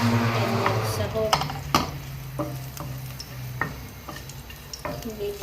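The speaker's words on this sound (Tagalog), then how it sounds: "At ilagay ko na ang bawang. Gigisa ko." Garlic sautéing in a pan while cooking zucchini with meat, a soft continuous sizzle with scattered clicks and taps of a utensil stirring, fairly quiet, with a voice speaking briefly.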